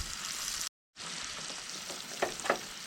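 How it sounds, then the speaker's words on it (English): Orange bell pepper and onion fry on a camp stove with a steady close sizzle, broken by a brief silent gap, then a couple of stirring scrapes. "drop my orange bell pepper and onion right in the middle of that, and fry those up"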